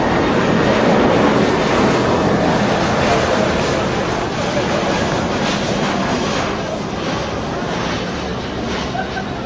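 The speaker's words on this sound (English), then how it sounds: "We'll give you a quick break as this plane flies through" A propeller or jet airplane passes over a T10 cricket ground as a broad, steady roar that fills the whole stretch and slowly eases, loud and enveloping, with faint crowd murmur underneath.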